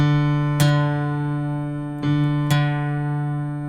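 A guitar's D string plucked three times during tuning, each note ringing with a bright attack and slowly fading sustain, alone with no voices.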